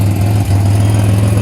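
A 2007 Pontiac Grand Prix engine idles loudly and steadily up close, with an exhaust leak adding a raspy, ticking pulse to the continuous low rumble.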